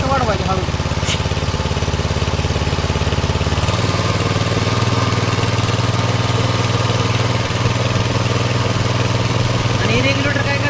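A 6.5 hp petrol engine runs steadily and close by, its drone dropping to a lower pitch partway through, then holding a constant, loud hum with a few brief clatters.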